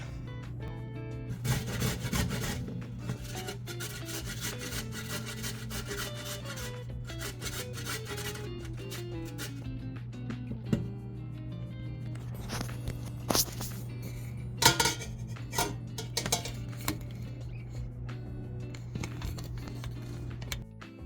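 Celery being shredded in a kitchen shredder, a steady rasping, scraping grind that runs continuously for about twenty seconds over a low constant hum, with occasional sharper knocks and no talking.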